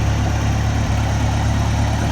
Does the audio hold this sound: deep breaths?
no